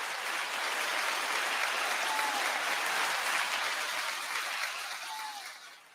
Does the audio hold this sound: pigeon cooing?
no